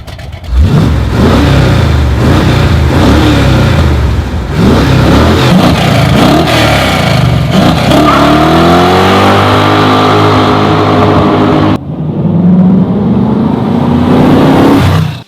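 An American V8 muscle car in Need for Speed, offered with a 400 or 455 cubic inch V8. Its engine revs loudly and continuously, with rising pitch sweeps through several gear changes and a brief cut before climbing again.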